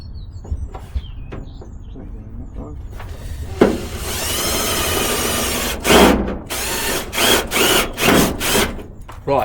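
Cordless power drill driving screws into the panel of a work van being converted into a gardening rig: a sustained whirring run followed by several short bursts of the motor, close and loud, with talking in between.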